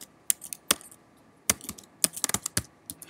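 Fingers type code on a computer keyboard in short, irregular bursts of crisp key clicks, close and clear against a quiet background, with no speech.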